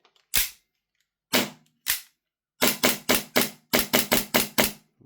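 An Army Taran Tactical JW4 Sand Viper airsoft pistol is dry-fired during a function check. Three spaced sharp cracks are followed by a quick burst of about nine more, each loud, close and snappy against silence.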